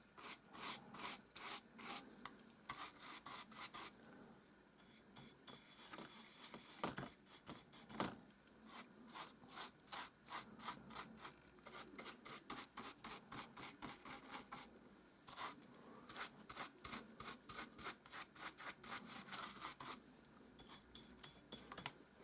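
Heavy dry brushing on a gritty sand-covered Warhammer 40K terrain piece makes rapid close scratchy strokes, each a short bristly rasp, coming in quick runs with brief pauses between bursts.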